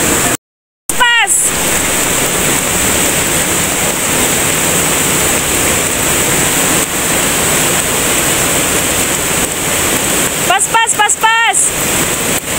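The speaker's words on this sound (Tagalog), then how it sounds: "First na mo ni nga suba nga agian." A river crossed on a mountain hike rushes steadily and loudly with broad hissing flow from start to end, broken by a short dropout near the beginning, with faint voices briefly audible toward the end.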